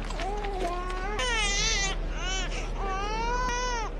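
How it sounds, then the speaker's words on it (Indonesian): A baby wails in several rising and falling bursts that are loud and close, over a steady low hum, with some distressed adult vocalizing mixed in, in a Bosnian wartime setting. "Mendengar ada bayi nangis karena tak ada susu"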